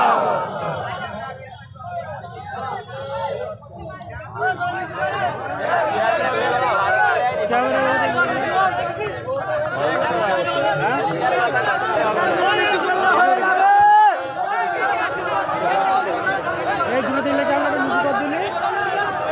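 A large outdoor crowd at a political protest rally in West Bengal chatters and murmurs continuously, a dense babble of many voices that swells and stays loud throughout.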